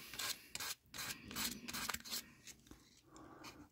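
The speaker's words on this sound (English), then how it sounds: "And you just sand it." Hand sanding a 1960 Corvette body panel: close, rough scratchy strokes rubbing back and forth in an irregular rhythm, with brief pauses between passes.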